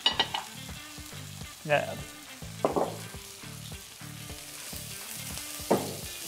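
A chicken breast fillet sizzles as it fries in a pan. A soft, steady crackle runs beneath background music, with a few sharper bursts and a single brief spoken word.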